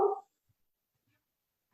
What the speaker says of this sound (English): Lisa's pup's always in the background.